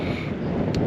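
Wintry wind buffets the microphone on the coast at Bullhead Lighthouse, a loud, steady roar with constant low rumble and no pauses.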